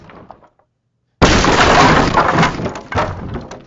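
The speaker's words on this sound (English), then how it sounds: "you can sort of notice that last chunk of wood hitting the ground" Chunks of wood in a game demo crash to the ground in a sudden loud burst of splintering clatter, followed by scattered knocks and debris settling as the noise tapers away.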